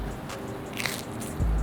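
A crisp bite into the crust of a burrata pizza, a short crunchy crackle close to the mouth amid soft background noise, followed by a low thump.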